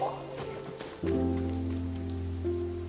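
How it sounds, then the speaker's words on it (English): Rain falls steadily in Genshin Impact, a soft, continuous patter under low game music tones. "It's raining."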